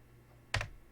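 A single short burst of computer keyboard clicks, a quick cluster of keystrokes while typing a comment, sounding close against a quiet background.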